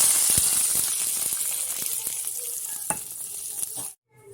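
Curry leaves, red chillies and cumin crackle and sizzle in hot oil for a tempering, a loud dense hiss with scattered pops that cuts off abruptly near the end.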